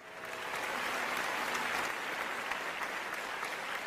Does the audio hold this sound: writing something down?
no